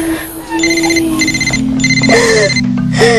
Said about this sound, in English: Pick up the phone, Taylor